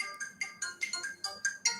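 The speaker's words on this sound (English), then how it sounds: "And we have a phone call" An electronic phone ringtone sounds for an incoming call during a live broadcast, repeating short bright tonal bursts in a steady rhythm, fairly close and clear with no talking over it.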